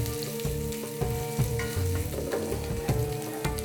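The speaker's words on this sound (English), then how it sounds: "I will start by sautéing my chopped onions in the hot oils" Chopped onions sauté in hot canola oil for a vegan Egyptian okra stew, a close, continuous sizzle and crackle with occasional stirring clatter, steady and fairly loud.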